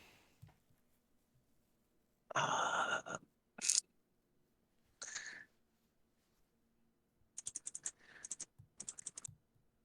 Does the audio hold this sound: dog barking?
no